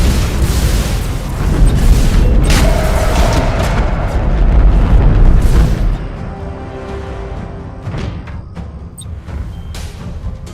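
An enemy defense platform blows apart in Battlefleet Gothic Armada 2, a loud, rolling, sustained explosion that rumbles heavily for several seconds before dropping to a quieter crackling tail.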